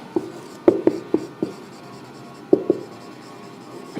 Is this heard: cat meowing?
no